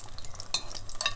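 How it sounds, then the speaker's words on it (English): An egg fries in fat in a pan as fat is spooned over it, giving a close crackling sizzle with sharp spits and scraping stirs of the spoon, with no talking. "I spoon the fat over the top of the egg, which cooks it from the upside down"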